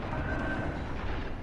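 Warship guns firing armor-piercing shells in World of Warships Legends, a dense rumbling roar of naval gunfire with a sharp boom right at the end.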